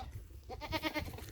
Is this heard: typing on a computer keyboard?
no